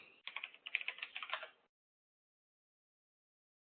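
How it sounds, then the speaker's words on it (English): A short burst of quick, close clicks on a computer keyboard lasts about a second and a half, then stops into silence, with one more click at the very end. "I'll type here."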